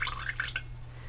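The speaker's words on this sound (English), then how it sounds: "What we're going to do is drain off the fluids or liquids from the can, and we're going to pour that out." Juice drained from a can of apricot halves pours out in a brief, close, splashing trickle that quickly fades, with no talking.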